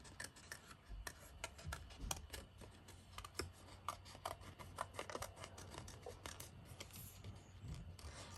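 Scissors snipping through card while cutting out a piece for a handmade fragment hearts card, a dense run of quick, close, crisp cuts and rasping slides continuing steadily throughout.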